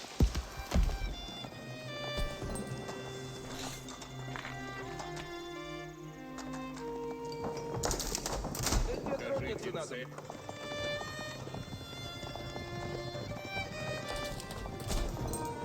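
Hooves of advancing knights in Age of Empires 4 clop steadily amid a busy mix of game sounds, with music and other battle effects layered throughout at moderate volume.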